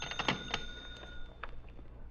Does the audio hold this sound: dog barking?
no